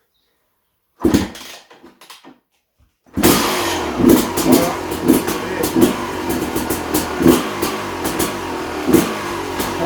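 A moped fitted with a Fresco exhaust sputters briefly, falls silent, then catches and runs loud and close, its engine blipping in a series of sharp revs over a rough idle.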